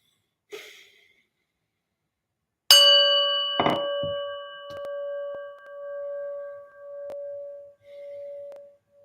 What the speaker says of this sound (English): we're going to start with listening to a prayer bell